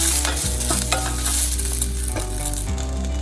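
Curry leaves fry in a pan on residual heat after the stove is turned off, giving a close, steady sizzle with stirring scrapes and a few dull knocks against the pan.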